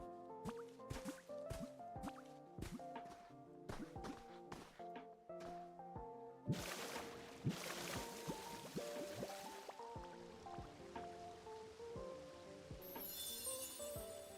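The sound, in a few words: flowing water in Pokémon Pokopia video game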